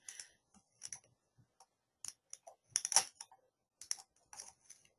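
Computer keyboard typing in irregular bursts of quick clicks with short pauses between, fairly faint and close, with no voices.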